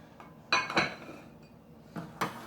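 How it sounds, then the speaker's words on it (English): A utensil knocks against a microwave dish while butter and ingredients are stirred together, giving a few soft, scattered clinks and scrapes with quiet pauses between them. "Start to stir it together because the butter's going to start to melt."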